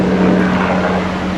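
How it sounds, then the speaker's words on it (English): A helicopter flying overhead, a loud, steady rotor and engine roar that fills the whole moment with no talk over it. "sorry, there's a helicopter flying overhead"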